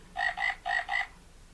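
A frog piece from the Operation board game sounds four quick electronic croaks in two pairs, clear and close with no talking.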